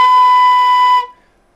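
One steady B flat marching flute note, a low D, held for about a second, clear and close, then cut off cleanly into silence.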